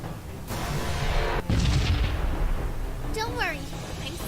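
Missile fire and explosions in the space-combat video game Sunrider: two heavy booming blasts close together, trailing into a rumbling roar, followed by quick chirping, sweeping effects near the end.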